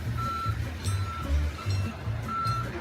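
A truck's repeated reversing beeps while a crane loads a kei truck onto a big rig, steady evenly spaced tones over low engine rumble, moderately loud, with no talk.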